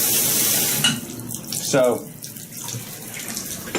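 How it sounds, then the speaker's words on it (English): Shower running in a hotel bathtub-shower combo at a Ramada Inn in Roanoke, Virginia, a steady hiss of water throughout with a brief word spoken over it. "We have a bathtub, shower combo, with a shower that does seem to work perfectly fine."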